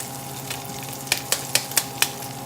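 A seasoning packet is stirred into cabbage frying in a pan. A utensil scrapes and taps the pan in a quick run of five or six distinct clicks over a soft, steady sizzle.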